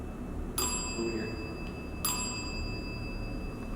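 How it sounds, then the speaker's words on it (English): A ghost-hunting device's electronic bell sounds two short, bright chimes about one and a half seconds apart over a steady background hum in a room thought to be haunted. "Bell's going off."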